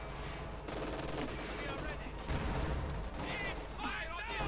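Panzerwerfer rocket artillery fire in the World War II strategy game Company of Heroes 2, a dense, steady barrage of blasts and gunfire running through a commentator's voice.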